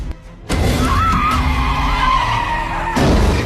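A car skids with a long loud tire screech that begins abruptly, holds for about two and a half seconds, and ends in a heavy impact as it strikes another car.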